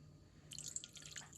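Porcini mushroom soaking liquid is poured slowly, giving soft, close trickling and dripping that starts halfway through, faint and uneven, with no voices.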